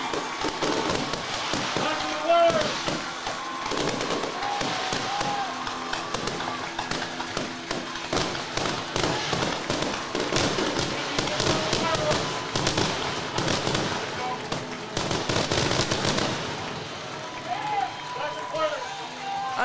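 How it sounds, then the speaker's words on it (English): Fireworks go off at a high school football game between the Valparaiso Vikings and the Penn Kingsmen, a dense run of pops and bangs over crowd noise while announcers keep talking throughout. "I think that's the best we've ever seen from those fireworks."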